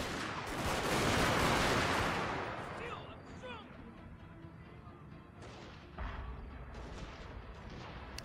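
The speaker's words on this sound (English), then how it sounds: "Open fire and shoot down those guys." Massed troops opening fire in the Fall of the Samurai strategy game: a loud rolling volley of gunfire swells early then settles into scattered distant shots and thuds.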